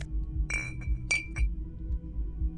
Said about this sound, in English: Some bottles. I like that clinking sound.